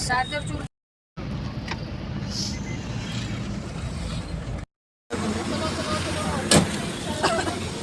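A car on a night road trip to Khatu Shyam gives a steady low road rumble and engine drone with two abrupt silent gaps, and voices talk faintly over the cabin noise.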